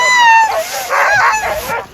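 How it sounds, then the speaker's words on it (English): Several sled dogs tied together in a team bark and yelp excitedly, high-pitched overlapping barks and whines in short bursts, close and loud. "that's what happens when you tie a bunch of dogs to each other"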